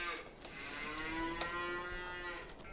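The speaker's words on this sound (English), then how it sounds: "we're going to get some cows into this barn" Cattle moo in Farming Simulator 22 with a long, drawn-out low call that holds a steady pitch, layered over soft overlapping moos and a faint ambient bed. The sound is fairly quiet and has no voices.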